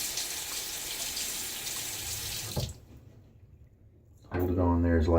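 Steady rush of water from a bathroom tap while a razor is rinsed, loud and close for a few seconds, then a brief lull before the flow returns with a hollow filling tone in the sink.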